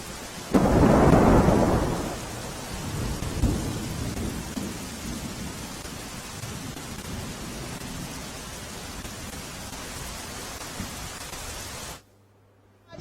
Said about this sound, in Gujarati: વિરામ બાદ ડીસામાં ધોધમાર વરસાદ શરૂ થયો